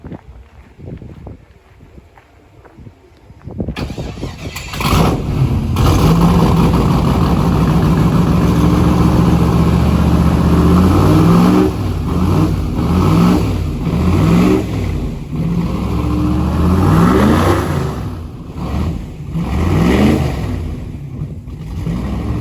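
A Duramax-powered C20 truck engine revs loudly and steadily at close range after a quiet start, its roar swelling and easing in repeated pulls while blowing leaves.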